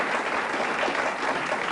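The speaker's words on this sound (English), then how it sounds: "Plenty of encouragement, too, from the big crowd here." Studio audience applauding on the 1981-82 Australian game show Sale of the Century, a dense, even roar of clapping from a big crowd, steady throughout.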